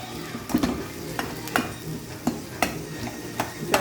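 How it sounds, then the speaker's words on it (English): Spoon stirring and breaking up fried potatoes (aloo) in a pan, giving soft scraping clinks at an irregular pace over a light sizzle, close and fairly quiet with no talk. "Just taking a spoon and breaking it up a little."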